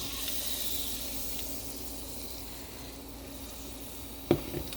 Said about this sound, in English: I'm just going to start my cheese sauce off with maybe 2 tablespoons of butter. Going to let that melt